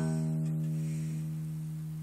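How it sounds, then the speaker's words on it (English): Guitar note ringing on the top string, an open note hammered on at the first fret, with one steady sustained tone that slowly fades. Quiet, with no voice. "we're going to take this finger and hammer on the first fret of the top string"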